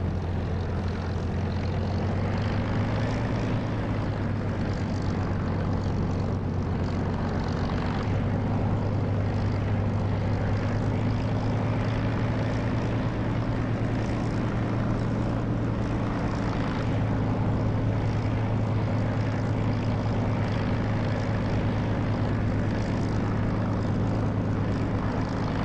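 Propeller aircraft engine droning in the DCS flight simulator while taxiing, a loud, continuous steady hum with a low rumbling tone that barely shifts, with no voices over it.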